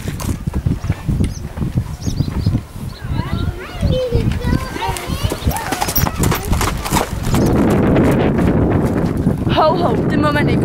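A calm pony named Mille being led, her hooves clip-clopping in an uneven walking rhythm on a hard surface close by, with a person talking over it and a denser scuffing, rustling stretch near the end.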